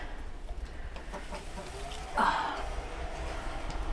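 Hens cluck in a chicken coop with an attached run, garden and orchard, making soft, scattered clucks over a low background hum, with one louder squawk near the middle.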